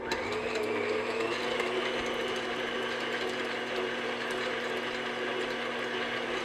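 A hand mixer whirs steadily as it beats room-temperature butter until smooth, a continuous close mechanical hum with faint rattling from the beaters in the bowl, no talking.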